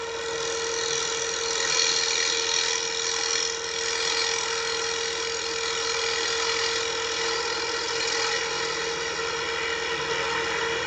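A lathe set up for offset turning runs steadily at speed while facing off a workpiece, giving a loud, continuous mechanical whir with a steady tonal hum and no pauses.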